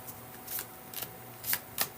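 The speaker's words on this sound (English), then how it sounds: "So I will just shuffle the cards." Tarot cards being shuffled by hand, a series of soft riffling swishes and papery slaps coming in irregular bursts, close and fairly quiet, with no speech.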